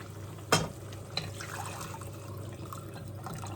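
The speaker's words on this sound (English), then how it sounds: "I'm going to go in now with some stock" Stock is poured into a pot of gizzard and tripe stew, starting with a sharp splash and followed by a quiet liquid trickle and a few small drips.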